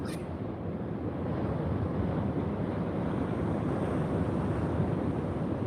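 Sea waves on a rocky shore produce a continuous loud wash and roar, mixed with wind buffeting the microphone and no distinct breaks.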